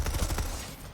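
Rapid automatic gunfire from a Planetside 2 weapon fired at full rate, dense overlapping shots for about half a second, then fading into a softer tail.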